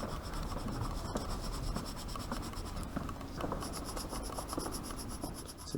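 Pencil shading tone onto paper during a drawing, a steady dry scratching rub with repeated back-and-forth strokes, close and continuous with no talking.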